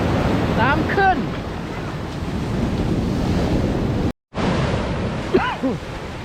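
Surf rolls steadily onto the Northern California coast near Eureka at high tide, a loud continuous wash with heavy wind buffeting the microphone, a brief dropout midway, and faint voices in the background.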